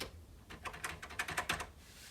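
A burst of key presses on the working keyboard of THEC64, a Commodore 64 replica, with about a dozen quick, slightly hollow clicks in an uneven typing rhythm, close and fairly quiet.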